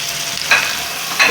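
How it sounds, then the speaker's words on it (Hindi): Tomatoes tipped into a hot pan for Punjabi dhaba-style moong dal fry, giving a steady close sizzle with two brief louder hissing bursts as they hit the oil. "बस इस वक्त अब मैं अपने टमाटोज डाल दूँगी"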